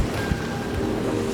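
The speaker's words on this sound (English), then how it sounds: "we pulled in the head sail and motored fast straight into" A sailboat motors hard upwind into rough waves off Thailand with its head sail pulled in. Steady rushing water and hull noise wash past, with wind buffeting the microphone and a low engine drone underneath.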